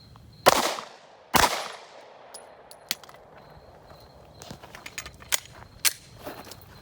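Glock 45 pistol fired at an outdoor shooting range, two sharp loud shots near the start, then fainter scattered pops and clicks.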